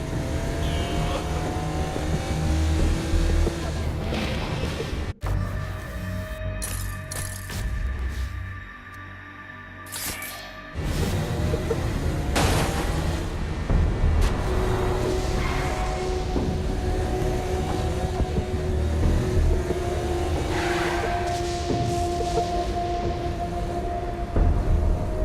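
A car races through Saints Row: Gat out of Hell, its engine revving hard and continuously with gear changes, a brief dip in power midway, then surging back to a loud, sustained roar.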